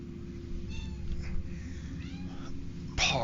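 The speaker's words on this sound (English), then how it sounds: "Cat is obsessing over anything that looks like prey." A house cat meows several times, soft drawn-out cries over a steady hum, ending in a louder, sharper meow close by.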